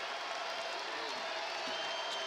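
A basketball arena crowd cheers and applauds in a dense, continuous roar during a Seton Hall game, with a commentator's voice faintly underneath.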